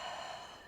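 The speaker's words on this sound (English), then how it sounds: "Most importantly, big exhale here." One deep exhale during a pre-surf warm-up stretch: a soft, breathy rush of air close to the mic that fades out within a second.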